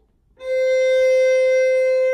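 One steady bowed violin note, C natural on the A string, starts cleanly and sustains evenly for nearly two seconds, close and bright, with no voices.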